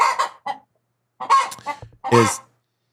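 Chicken clucking sound effect: three short bursts of squawking, broken clucks separated by brief silences, loud and close, with no talk.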